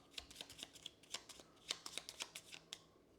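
A deck of cards riffled and shuffled during a tabletop card game session, a string of quick crisp flutters and snaps in close, fairly quiet bursts with no talking.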